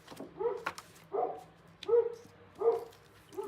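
A dog of almost eleven and a half, barking and whimpering indoors: four evenly spaced, whiny bark-whimpers close by, each a short tonal yelp, with no talk.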